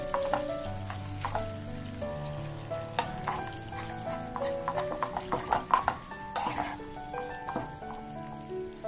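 Khova frying in ghee over a low flame for basmati kheer, a steady soft sizzle with light stirring and occasional clinks of a spoon against the pan.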